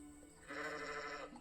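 A sheep in a video game gives a single drawn-out bleat lasting under a second, clear and moderately close against a quiet background hum.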